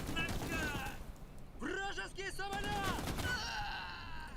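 A support gun run fires in the Cold War real-time wargame Gone Hot 1968, as a dense, rumbling stream of rapid fire at the start and end, with a voice talking in between.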